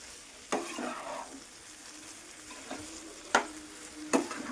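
Egg cauliflower masala curry frying on a high flame, a continuous sizzle broken by a few sharp spatula scrapes and stirs against the pan, close and clear with no talking.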